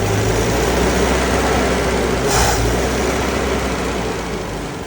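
Land Rover Lightweight engine settling back to idle, a steady close rumble with constant broadband noise and a brief swell partway through.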